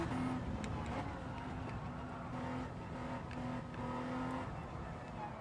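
An old BMW is driven in Gran Turismo 7, with a steady engine drone and a faint tonal whine holding at a constant level throughout, with no talking.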